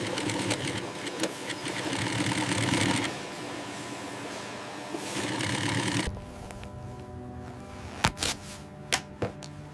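Industrial sewing machine stitching cowhide leather in a leather factory, a rapid buzzing whir in two bursts that stops, followed by quieter clicks and a few sharp knocks.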